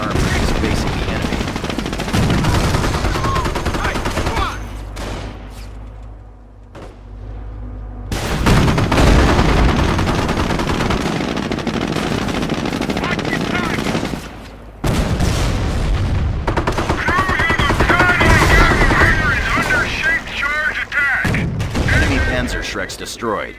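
Gunfire and heavy booms ring out in a Normandy battle video game with a Sherman tank, loud bursts and blasts coming in waves with a short quieter lull, voices heard among the combat.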